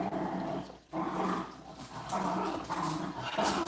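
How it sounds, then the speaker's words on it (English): Dogs scuffle and fight indoors, with growls, snarls and yips coming in bursts over a busy background, fairly close and moderately loud, no talking. "and my dogs are fighting"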